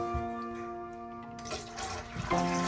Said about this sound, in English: he poured water into a basin and began to wash his disciples' feet